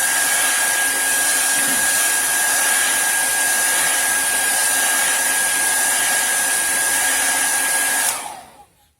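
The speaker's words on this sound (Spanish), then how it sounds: "podemos acelerar el proceso de secado con el secador" A hair dryer roars steadily and close while drying paint on a miniature, holding a constant whine before abruptly cutting off and winding down near the end.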